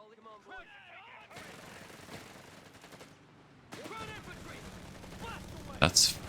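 Bursts of automatic machine gun fire and other battle gunfire crackle through a Company of Heroes 3 match with US Forces, steady rattling volleys with a loud sharp burst near the end, and a voice talking over the action.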